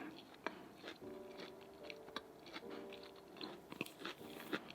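Someone chews a Jamaican spice bun sandwich with cheese and pickles, close and quiet, with soft crunchy bites and wet chewing in an uneven rhythm.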